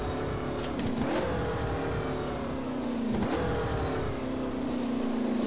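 A racing car engine on the Piccole Madonie road circuit in rFactor, droning loudly and steadily, with two sharp revving shifts where the pitch drops and climbs again.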